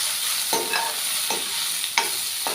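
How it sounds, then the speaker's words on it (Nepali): Tomato and ginger paste is stirred and fried in a pan, giving a steady close sizzle broken by four sharp scrapes of the spoon at an uneven pace. "अब यसलाई चाहिँ राम्रोसँग चलाउने"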